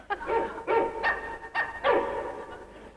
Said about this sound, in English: getting very close to the last time I'll ever use the dog machine